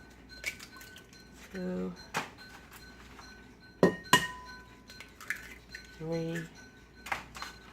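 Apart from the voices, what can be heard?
cracking eggs into a bowl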